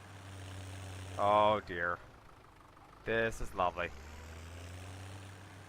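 Tractor engine in Farm Simulator 17 running at a low, steady idle, a constant quiet drone that continues under a man's short spoken remarks.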